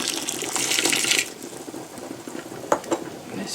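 Blackberry jelly being filled into canning jars: a wet, broadband pouring and stirring wash for about a second, then quieter kitchen clatter with a couple of sharp light clinks, no talk.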